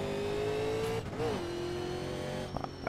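A 1987 Pontiac stock car engine in the iRacing sim at Kern County Raceway Park, a loud steady droning hum held near, briefly dipping as the revs shift then settling back to a constant tone.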